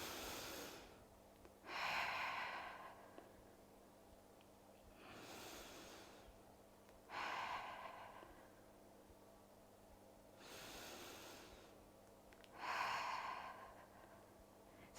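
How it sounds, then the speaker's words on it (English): Slow, deep breaths in a seated chair Pilates breathing exercise come as long, airy sighs and inhales, close and quiet, spaced about five seconds apart. "take a breath in"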